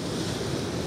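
Steady rush of sea waves from an incoming tide breaking on shoreline rocks at night in winter, a continuous broad wash with some wind noise and no talk.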